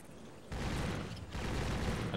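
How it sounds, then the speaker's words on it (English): Rapid gunfire from the first-person shooter Jurassic: The Hunted as dinosaurs are shot, a dense continuous burst that starts abruptly, dips briefly, then resumes at steady loudness. "Shooting dinos."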